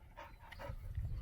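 A working dog out near rabbits gives a faint, brief whimpering bark, low and distant.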